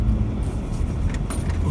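A four-wheel drive vehicle climbs a rough soil track with a low, steady engine rumble from inside the cabin. Faint rattles and knocks from the bumpy ground come through it.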